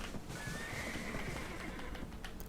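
A horse in the online game Black Desert Online gives a whinny, a drawn-out wavering neigh heard close over a steady bed of game noise and soft hoofbeat clip-clop, lasting a couple of seconds, with no talk.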